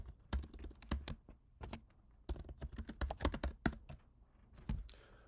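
Rapid, irregular clatter of a computer keyboard as random text is typed into a mini chat room program, close and fairly loud in uneven bursts with brief pauses, no voices.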